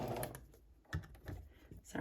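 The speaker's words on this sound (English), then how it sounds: "I'm going to start stitching." A sewing machine stitches a zipper onto a Sew Together Bag with a quarter-inch seam allowance, giving short, uneven runs of needle clatter close by, punctuated by sharp mechanical ticks.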